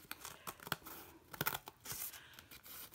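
Tearing the spine off an old book being taken apart for a fall junk journal: quick close ripping and crinkling bursts of paper and binding, uneven and moderately loud, with no one talking.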